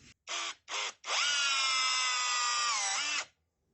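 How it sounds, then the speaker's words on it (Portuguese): A 5-in-1 multi-head power screwdriver drives a screw at maximum torque: three short whirring blips, then a long, loud motor whine that spins up, holds and winds down as the screw seats. "Cravou bem o parafuso aqui no torque máximo."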